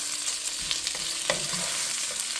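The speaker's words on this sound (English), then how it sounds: "we're going to follow this up now directly with the kielbasa. That's going in now. All right, I'm going to mix that up." Kielbasa tossed with cabbage in a frying pan, a close, steady sizzle broken by the scrape and shuffle of stirring, with no talking.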